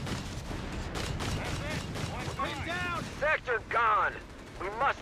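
Rapid flak gunfire in Company of Heroes 3 pounds a captain and rifle squad, dense repeated bursts filling the background while voices talk over it.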